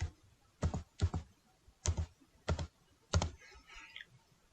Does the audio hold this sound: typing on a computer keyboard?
yes